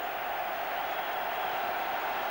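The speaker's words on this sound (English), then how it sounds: "Tremendous noise around the stadium." Football stadium crowd at the Torquay United v Bolton Wanderers Associate Members Cup Final, a steady distant roar of many voices filling the stands, even and unbroken throughout.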